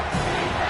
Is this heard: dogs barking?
no